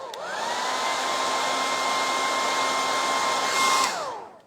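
Hair dryer running steadily at close range while drying paint on a painted cottage sign, a continuous whirring blow with a faint high whine, starting up and then shutting off after about four seconds.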